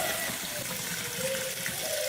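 Cold tap water runs steadily into a sink to rinse freshly cooked noodles, a continuous close splashing rush with no break.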